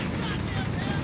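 Sustained dense rattle of machine-gun fire in Company of Heroes 3, a continuous loud broadband barrage with no gaps, filling a short burst of battle.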